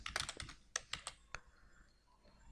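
Typing a style name on a computer keyboard in Microsoft Word: a quick burst of close, crisp key clicks, a short pause, then a few more separate taps and one final keystroke.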